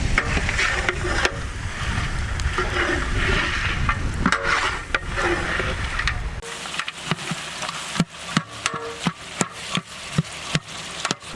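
Mutton is stirred in a pot while tahari cooks: a loud, dense sizzle with scraping for several seconds, then a quieter stretch of sharp, regular knocks and scrapes of a spoon against the pot.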